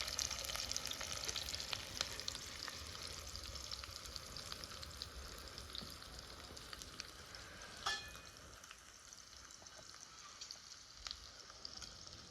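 Onions and green chillies fry in a pan, a soft continuous sizzle with faint stirring, fairly quiet and quieting further toward the end.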